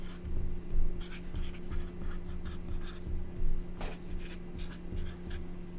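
Pen or marker writing out a geometry proof on a board, a steady run of close scratching strokes with short pauses between them over a faint constant hum.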